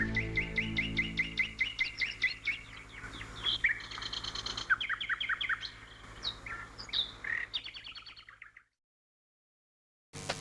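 Several small birds chirp and tweet in quick, overlapping bursts close by, a lively continuous chatter that stops abruptly near the end.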